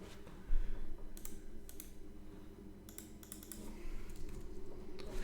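Typing on a sticking computer keyboard, irregular clusters of sharp key clicks and clacks over a steady low hum, close and fairly loud, with no talk.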